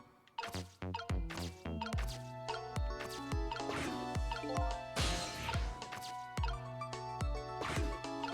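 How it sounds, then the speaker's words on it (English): Water drops falling one after another in a video game, each a bright plinking drip with a short ringing tail, steady and clear in a quiet space with no talking. "I saw that water drop."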